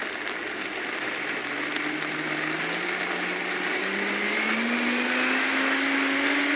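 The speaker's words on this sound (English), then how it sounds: "it's in the blender, you're blending it" A blender whirs steadily, blending super hot sauce, its motor pitch slowly rising as it speeds up, loud and continuous with no talking.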